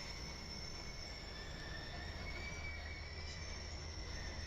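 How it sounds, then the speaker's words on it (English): A welded rail train rolls past with a steady rumble and high sustained wheel squeal tones. The sound is moderately distant and continuous, with no voices. "Ooh, welded rail train."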